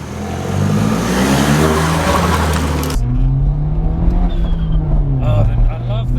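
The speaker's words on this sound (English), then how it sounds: "The induction noise sounds even cooler." Engine and induction-kit intake noise from a modified, bagged BMW 1 Series while driving, a loud steady drone whose pitch climbs under acceleration and dips again, with voices talking over it.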